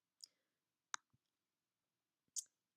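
Three separate sharp clicks from a computer mouse, spaced irregularly over a quiet background, fairly faint and close, with no talking.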